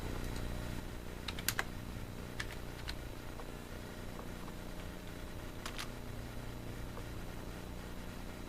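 Keystrokes on a computer keyboard while answers are entered in maths software, a few sharp taps in short bursts over a steady low hum, close and fairly quiet, no talking.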